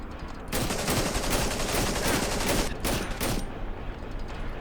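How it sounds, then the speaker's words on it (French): Sustained M16 rifle fire in the horror game Cry of Fear, a loud, dense, continuous burst of automatic shots lasting several seconds with a brief gap, close and without talking. "il tire à la M16"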